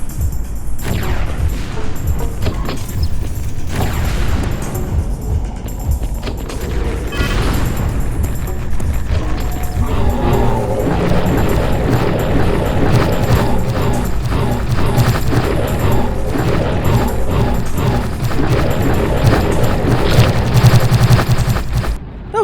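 A boss in the video game Chasm: The Rift is lured into a giant fan, with loud sustained crashing, bursts of gunfire-like impacts and heavy mechanical noise continuing throughout.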